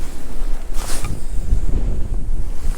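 Gusty wind buffets the microphone outdoors while a fishing reel is cast in a crosswind, a loud low rumbling roar with a brief brighter whoosh partway through.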